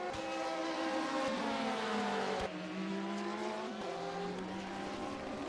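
Porsche and Ferrari GT race cars at Sebring in a sim racing endurance event scream past at high revs, engine tones rising and dropping through gear changes, with a sharp pass at the midpoint and steady loud engine drone throughout, no talk.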